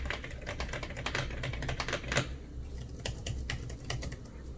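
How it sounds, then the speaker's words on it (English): Keys on an iPad Pro 12.9-inch keyboard clatter in quick, irregular clicky taps close up, with a brief louder burst midway and a slightly sparser rhythm toward the end. "The iPad Pro, the keys have a nice clickiness to them."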